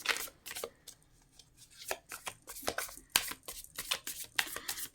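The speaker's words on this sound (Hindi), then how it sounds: "जब तक मैं कार्ड को शफल कर रही हूँ" Tarot cards being shuffled by hand, a series of quick crisp riffling bursts separated by short pauses, close and fairly quiet.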